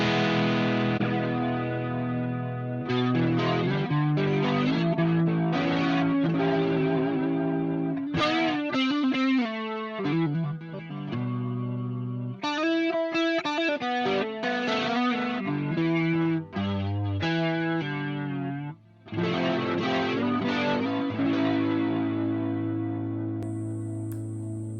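Electric guitar plays through the Blackstar Jared James Nichols amp plugin with a swirling, spinning modulation effect. Driven, distorted chords and single-note phrases come in loud bursts with short pauses, ending on a long sustained chord.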